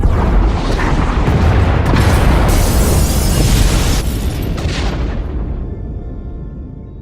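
Pod bays being destroyed by explosions in the SWTOR video game: a loud, sustained rumble of booming blasts that rolls on for several seconds and then fades away into quiet, with no talk over it.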